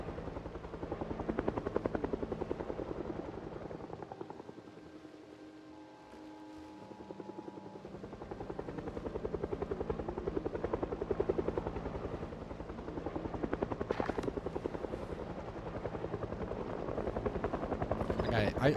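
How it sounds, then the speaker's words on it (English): Helicopter flying overhead during a helicopter event in the survival game Project Zomboid, a steady loud rotor thump sustained throughout, swelling and fading slightly, with faint gunfire-like bursts underneath. "a helicopter event"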